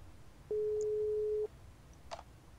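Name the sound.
telephone busy signal, from a video game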